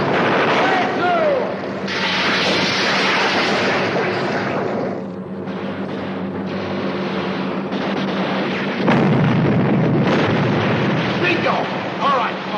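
A second torpedo fired from a submarine bursts into a loud, rumbling explosion that swells, dips and then erupts again in a heavy blast, with voices talking over the roar.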